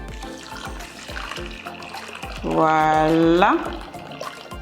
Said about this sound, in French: On va ajouter de l'eau salée dessus.